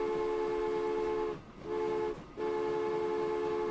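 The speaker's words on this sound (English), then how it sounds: "The train is leaving the depot," A train horn sounds from a locomotive pulling out of the depot in Transport Fever, a loud sustained tone in three blasts with two short breaks between them.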